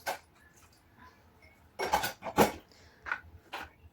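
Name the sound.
washing dishes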